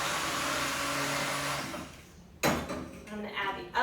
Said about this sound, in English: we're just going to blend this. And it just takes a minute or two to blend.